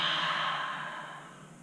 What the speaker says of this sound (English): Take a deep inhale in. And exhale out your mouth.